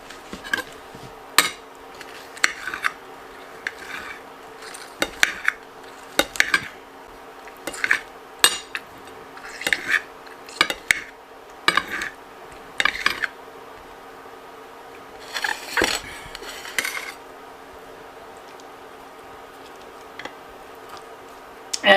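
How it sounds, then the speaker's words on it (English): A knife chops through rubbery, woody vegetables on a cutting board, cutting them into small bite-sized chunks with a steady run of sharp, irregular taps and clicks, close up, with no talking. "I just like to run my knife through them. Just breaking them down to little chunk-sized pieces."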